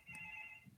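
A telephone rings in the background with a single short electronic tone, faint and steady, with no talking over it.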